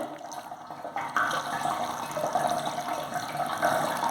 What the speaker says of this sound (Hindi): ये पानी इन 3 लेयर से फिल्टर होते हुए,